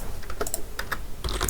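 Someone types on a computer keyboard while writing Python code, producing a quick, irregular run of close, crisp keystrokes with brief pauses between bursts.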